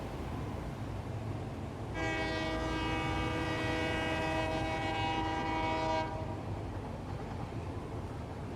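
In Satisfactory, a train horn blares one sustained chord for about four seconds over a constant rumbling rail backdrop, then stops while the rolling train noise carries on.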